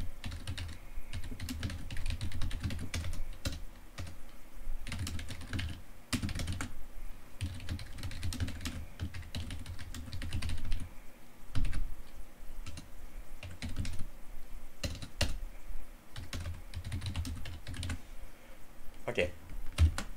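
Steady typing on a computer keyboard while a program is written, with rapid uneven clicks and occasional heavier keystrokes over a long stretch, close and fairly quiet, under intermittent talk.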